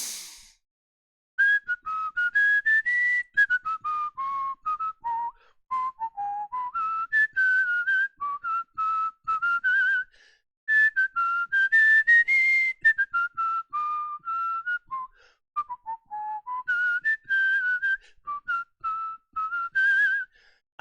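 A person whistles a melodic tune from Les Misérables, clear and close, in phrases broken by short pauses for breath, with no other sound behind it.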